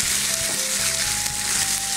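Pasta frying in a pan hisses and crackles steadily and loudly, with faint clinks from the pan over the sizzle; no talking.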